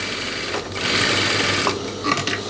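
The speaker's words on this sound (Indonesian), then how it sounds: "bagian kiri juga kita jahit bagian bawah kantong" Sewing machine stitching along the bottom of a trouser side pocket, a steady close mechanical whir that runs continuously with slight surges in speed and no talk.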